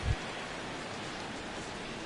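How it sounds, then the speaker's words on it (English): Rain falls during a baseball game in a video game, a soft, steady hiss with no pauses and a small thump at the very start, heard alone without any talk. "we've mentioned the conditions aren't ideal with the rain coming down"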